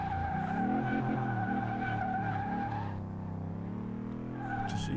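Ford Escort engine in Car Mechanic Simulator 2018, held at steady high revs on the gas pedal, then dropping in pitch as the pedal is released before climbing again; a loud, continuous synthetic engine drone.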